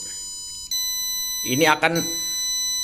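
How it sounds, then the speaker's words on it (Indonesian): A distance-sensor buzzer set to warn that an object is close sounds a steady, piercing electronic tone throughout, with someone briefly speaking over it partway through. "buzzer akan berbunyi setiap 1 detik"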